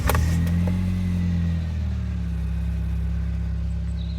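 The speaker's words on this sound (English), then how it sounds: "So that didn't take too long, so the car now starts" A car engine fires after a starter motor replacement, a brief crank and catch, then settles into a steady, loud, close idle hum.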